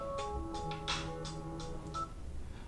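Electronic ringtone of an incoming phone call cutting into an online lecture, a short series of steady melodic tone pulses with bright bursts, heard alone and cut off quickly.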